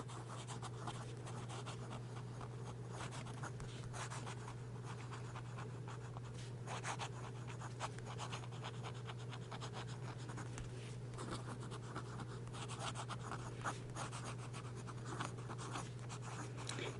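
Waterman C/F fountain pen writing on paper with Noodler's Blue Eel ink, faint close-up nib scratching in quick irregular strokes over a low steady hum, with no voices.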